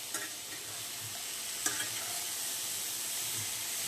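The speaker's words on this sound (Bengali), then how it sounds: "তেজপাতা ফোড়ন দিয়ে ভাজা হচ্ছে।" Bay leaf tempering in hot oil in a home kitchen, fried for a Bengali lunch: a steady, soft sizzle with brief scraping stirs, moderately close and without talk.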